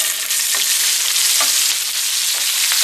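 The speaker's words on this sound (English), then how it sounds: "I'm going to fry these onions for a minute." Onions with turmeric powder sizzle in hot oil in a non-stick pan, a loud steady frying hiss with a few faint stirring scrapes and no talking.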